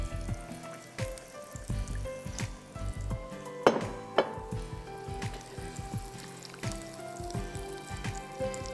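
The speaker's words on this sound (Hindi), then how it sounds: "थोड़ा सा पानी डालेंगे because we have to make a gravy" Water goes into a hot pan of sizzling food while gravy is made, a steady close sizzle and bubbling with a couple of sharper clatters partway through and no talking.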